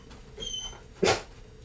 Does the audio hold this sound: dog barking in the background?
yes